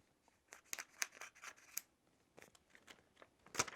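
Scissors snipping off excess stockinette during cast preparation in a medical setting, a run of quiet, close, crisp cuts in irregular rhythm ending with a louder final snip.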